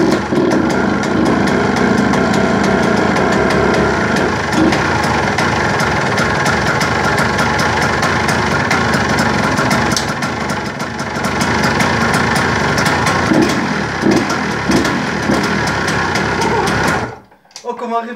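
A small flooded engine catches and revs sharply again and again, loud and close, with a buzzing, sewing-machine-like rattle between bursts. Someone talks excitedly over it, and the engine cuts out abruptly near the end.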